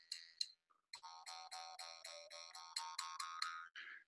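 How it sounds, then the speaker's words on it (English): A mouth harp twangs in a quick run of plucked notes, bright buzzing tones whose pitch shifts with the player's mouth cavity, fairly close and clean with no talk. "that is what's called a mouth harp, where it utilizes the cavity of the mouth to project the sound, but also change the pitch"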